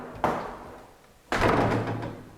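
A door in an old nursing home is swung and knocked shut twice, two close thuds with a lingering hollow tail in a quiet, echoing corridor.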